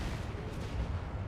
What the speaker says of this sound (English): Warp Lightning Cannon just shooting down range